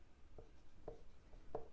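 A pen writes on paper in faint, short strokes, three soft scratchy bursts spaced evenly apart against a quiet background, with no voices.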